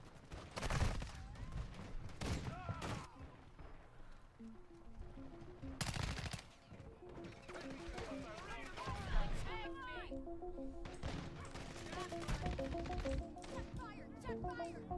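Gunfire in Call of Duty Modern Warfare 2: repeated sharp shots and bursts of rapid fire, some loud and close, with game sound effects in between and people talking.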